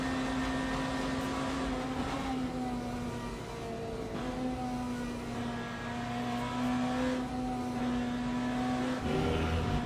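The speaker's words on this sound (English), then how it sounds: "Sound of BMW is nice from the outside" A BMW race car in Le Mans Ultimate, heard from outside, holds a steady engine drone with pitch rising and dipping through gear changes, moderately loud and continuous.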